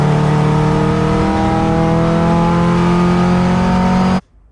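A time attack race car on the final straight before the chicane at Donington, engine droning loud and steady at high revs as a boost pipe comes off and power is lost, then cutting off abruptly near the end.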